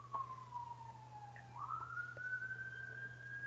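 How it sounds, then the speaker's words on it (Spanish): Ambulance sirens out on a city street, a faint, distant wailing tone that dips and then climbs again over a constant low hum indoors, with no talking. "mientras les estoy explicando, las ambulancias empiezan a sonar"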